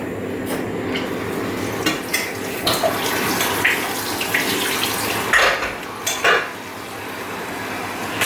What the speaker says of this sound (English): So I'm just going to give these a wash and then pop them in the pan.